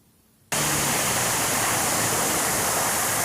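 Floodwater pours across flooded Westbrook Road, a loud, unbroken roar of rushing water that cuts in abruptly after a brief quiet moment and holds steady to the end.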